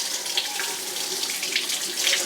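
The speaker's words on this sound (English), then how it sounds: "Let me wash my hands." Water from a kitchen tap runs steadily while hands are washed beneath it, a close, continuous splashing hiss during Thanksgiving meal prep.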